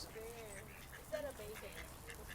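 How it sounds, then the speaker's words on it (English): Ducks being fed by an old man quack a few times in short, faint calls at a distance, partly under people talking. "An old man is feeding ducks."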